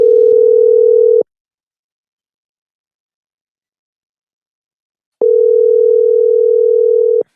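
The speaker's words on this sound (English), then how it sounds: "God, these rings take an age." A telephone ringback tone plays while a caller is being dialed into an Arsenal fan phone-in show, two loud steady buzzing rings about a second or two long separated by a long silent gap, with no voices.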